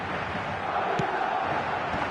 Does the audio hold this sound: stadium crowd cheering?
yes